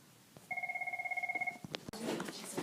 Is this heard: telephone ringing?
yes